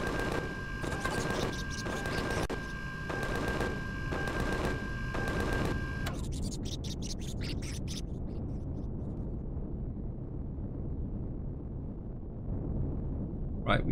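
Enemy gunfire in the video game Empyrion Galactic Survival, rapid rhythmic bursts of automatic shots, loud and continuous for several seconds before giving way to a quieter rumbling ambience.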